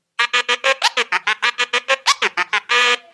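A transformer scratch on a DJ turntable chops a sound into a rapid, even stutter of about a dozen clipped pulses, then ends on one longer held burst. Up close and loud, with no voices.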